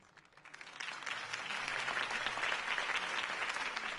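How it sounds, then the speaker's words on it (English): Crowd applause in the Batman Telltale video game, a dense wash of clapping that swells up after a quiet start and holds steady and fairly loud. "If only Mr. Wayne, my campaign's largest backer, could have heard that applause"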